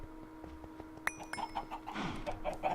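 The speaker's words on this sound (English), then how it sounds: "I really need to kill the chickens." Minecraft chickens in the Project Ozone 2 modpack, a few soft clucks and bird calls sounding in a quiet game scene with faint clicks and ambient noise, no talking.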